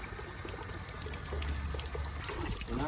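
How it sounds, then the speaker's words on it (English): Water forced backward through the heater core of a Chevy S10 during a reverse flush, a steady rushing, gurgling flow, close and continuous without talk. "You're gonna push water through the outlet just to make sure you got all the chunks out."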